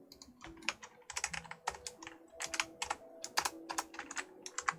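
Rapid clicking keystrokes on a computer keyboard, irregular bursts of close taps with brief pauses, quiet and alone over a faint background hum.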